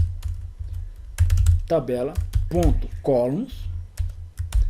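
Quick clicking keystrokes on a computer keyboard as code is typed into a VBA editor, coming in irregular bursts around someone speaking Portuguese.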